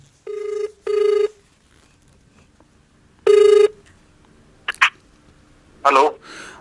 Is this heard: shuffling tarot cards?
no